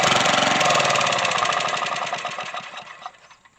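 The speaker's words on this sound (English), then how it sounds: "now that we got the old generator running again" Old generator, revived after years unused, running with a rapid, rattling engine beat that starts loud and gradually fades and slows as it winds down.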